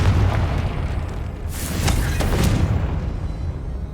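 Confringo spell blast in Hogwarts Legacy, a loud deep boom bursting out with a crackling rush of debris, followed by a second impact and a rumbling fade over low background noise.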